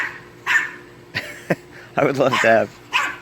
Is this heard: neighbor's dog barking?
yes